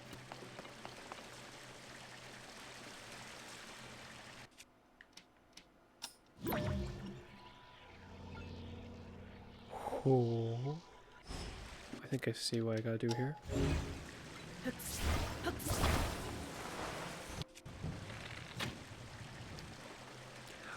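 Water flows and drips through a pipe system in the video game Zelda Tears of the Kingdom, splashing and gurgling in bursts amid game effects, with someone talking over parts of it.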